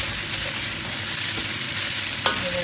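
Cabbage frying and being stirred in a pan, a steady close sizzle with brief scraping touches and no voices.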